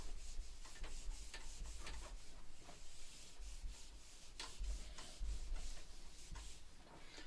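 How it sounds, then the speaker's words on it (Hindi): A board is wiped clean of a drawn figure, with continuous scratchy rubbing strokes in a steady back-and-forth rhythm, close and fairly quiet, with no voices. "फिगर रब करने जा रहा हूं"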